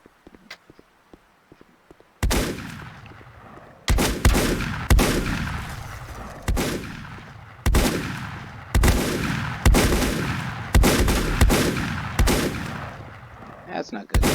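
Gunfire aimed at the player in Volcanoids, heavy booming shots with long echoing tails. After a quiet opening they come roughly every second or two, loud and close.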